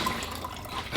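Water drips off something being lifted out before it goes in, in a homestead kitchen; a short, close, steady trickle with no talking.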